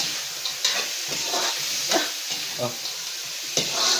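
Sisig sautéing in a hot pan, a close continuous sizzle broken by several stirring scrapes and clatters, with a brief voice exclaiming once.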